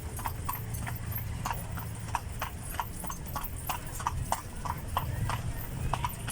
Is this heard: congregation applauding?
no